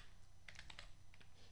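Light clicking of fingers typing on computer keyboards, a few quick bursts of keystrokes, faint and close over a steady low hum, with no talking.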